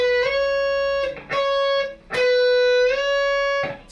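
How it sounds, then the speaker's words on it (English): A single guitar note, C sharp fretted on the 16th fret of the third string, is plucked four times, each ringing steadily with strong harmonics for about a second before the next strike. "And that should sound like this note here, the C sharp."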